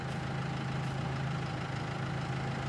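A tractor engine idles steadily in the Farming Simulator 22 video game, a loud, constant low rumble with no talk over it.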